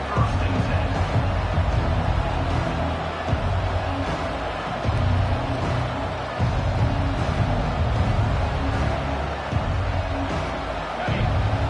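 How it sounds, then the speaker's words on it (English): A college football playoff stadium crowd roars in a dense, continuous wall of noise, loud and steady across the whole stretch with small surges, and no clear voices standing out. "This crowd, full throat, splitting the eardrums and letting them know it's going to be a long day."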